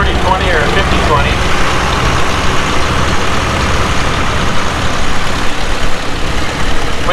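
A restored 1936 John Deere B tractor runs at a steam thresher reunion in Rollag, Minnesota, its engine a steady, loud low rumble that continues throughout beneath talk.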